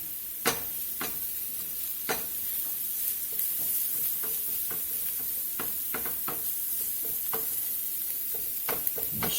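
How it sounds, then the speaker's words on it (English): A teaspoon of dried tarragon blooms in hot oil, a steady soft sizzle broken by sharp clicks and taps of a utensil stirring against the pan at irregular intervals. "I'm going to put me about a teaspoon of this dried tarragon in that oil there and let that bloom out a little"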